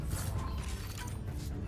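A jammed door mechanism in the sci-fi game Mass Effect Andromeda grinds and creaks with a steady mechanical rumble, close and continuous for the whole moment, with no voices over it.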